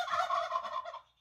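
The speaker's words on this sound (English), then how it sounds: "Turkeys! Turkeys! Turkeys!" A turkey gobbles once in a rapid, rattling burst, close and fairly loud, fading out after about a second with no talk over it.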